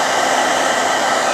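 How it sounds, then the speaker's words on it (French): A battery-powered hair dryer runs steadily, blowing hot air in a loud, even, broadband whoosh with no other sounds. "Là, le sèche-cheveux est allumé"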